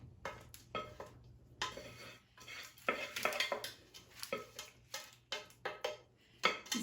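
A buttered pan being filled with Krackel chocolate crunch mixture pressed firmly down, giving close scraping, crackling and clinking in uneven bursts with short pauses, no voices.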